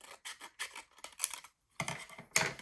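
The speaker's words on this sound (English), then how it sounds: "So I'm going to cut mine just right up to this stamp." Scissors snip through 6x6 paper while trimming a page for a Christmas mini album, a run of close, crisp cuts in quick bursts with a short pause before two more slices.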